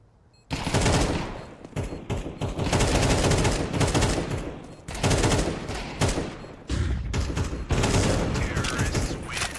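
Dense, sustained gunfire in a professional Counter-Strike match, Alliance against Astralis: overlapping rifle bursts and rapid shots crackle almost without pause, with only brief dips between volleys.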